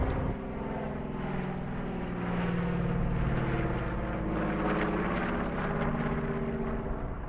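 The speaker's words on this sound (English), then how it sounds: "The three aircraft in front of you now are what has been called the most powerful aircraft to have ever operated anywhere. It's the Cessna Bird Dog." Piston-engine aircraft drone, three Cessna Bird Dog observation planes at a warbirds airshow at Temora, a steady loud droning hum with rich harmonics holding throughout, swelling slightly midway.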